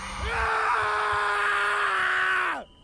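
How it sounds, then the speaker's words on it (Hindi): A man lets out a long, loud scream of fear in a horror story, a sustained cry of about two and a half seconds that cuts off abruptly, with a few faint low thumps just before it. "आशीष डर से चीख पड़ता है"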